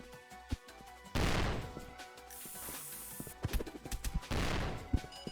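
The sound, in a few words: grenade explosion in video game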